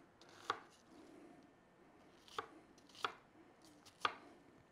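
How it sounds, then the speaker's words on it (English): A knife roughly chopping an onion on a board: four sharp, sparse chops spaced unevenly, close and fairly quiet against a faint room background. "the last thing we'll do is give our onion a rough chop"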